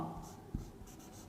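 Chalk or marker scratches across a classroom board in short strokes with a sharp tap midway, faint and close, set against a hushed room.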